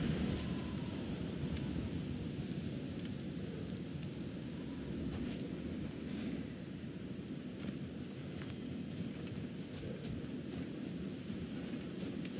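A fierce storm in the video game God of War Ragnarök roars steadily, a dense wash of wind and rain with deep rumbling, continuous and even throughout, no voices.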